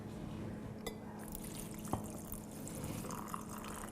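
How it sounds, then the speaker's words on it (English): Water is poured into glass jars packed with vegetables for culturing, a soft steady trickle with a few distinct drips and clinks, quiet and close, with no talking. "So we're going to add some water into these."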